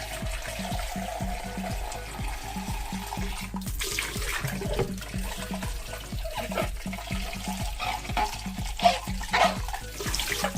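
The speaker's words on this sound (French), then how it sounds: "je lave bien mon entonnoir à l'eau chaude et sans rien d'autre" Hot running water pours steadily from a tap over a funnel being rinsed, a continuous splashing rush with brief knocks and clatters as the funnel is turned under the stream.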